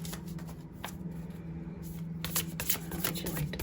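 Tarot cards shuffled continuously by hand, a steady close riffling and sliding rustle that lasts throughout with brief louder flurries and no talking.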